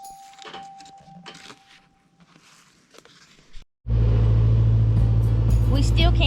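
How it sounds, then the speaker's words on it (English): Quiet talking and small handling noises give way to a pickup truck engine that suddenly roars up, close and loud, into a constant heavy rumble while the truck backs into a brushy wild blackberry patch. "So we're gonna take the truck and we're gonna back it in here"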